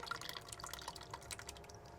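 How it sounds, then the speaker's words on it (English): A clam chowder and sour cream mixture is poured into a dish with soft, irregular wet splashes and drips, faint and close, with no talking over it. "I'm going to add or pour over my mixture, my clam chowder, sour cream"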